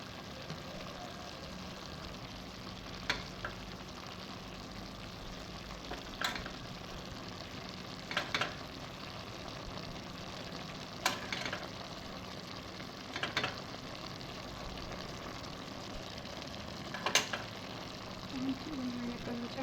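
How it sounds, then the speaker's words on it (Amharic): Spices sautéing in a pan with salt added, giving a steady low sizzle and frying hiss with occasional sharper clicks of stirring, fairly quiet and continuous throughout. "ቅመማችን ስንጨማምርና እናቁላላለን ማለት ነው።"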